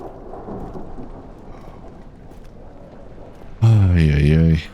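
Low thunder rumbles with a patter of rain in the video game Amnesia, moderate and sustained for a few seconds before a loud voice breaks in over it near the end.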